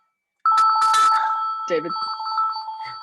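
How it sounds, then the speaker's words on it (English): A telephone rings during an online meeting, its electronic warbling tone starting abruptly and repeating across the clip, loud and close, with a person speaking briefly over it. "The phone rings as soon as somebody asks me a question."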